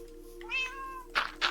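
A Minecraft cat meows twice in a drawn-out, rising-and-falling call, close and clear, followed by two brief, sharper mews. The calls come alone with no talking over them.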